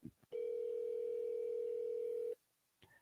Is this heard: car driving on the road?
no